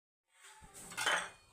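A gobi paratha goes down onto a hot iron tawa, giving a brief metallic clatter that swells into a short burst of sizzle, close and alone.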